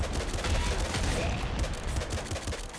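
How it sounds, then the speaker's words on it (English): Auto crossbow firing in the video game Nuclear Throne, a dense rapid volley of shots mixed with game sounds, loud and continuous throughout. "I may be firing my auto crossbow a bit too much"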